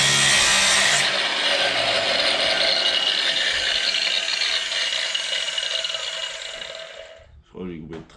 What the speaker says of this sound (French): Je crois que j'ai coupé de travers.